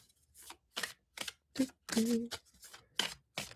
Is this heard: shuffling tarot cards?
yes